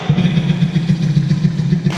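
A voice imitates a washing machine, a buzzing, rhythmic droning hum held steadily for about two seconds, loud and close.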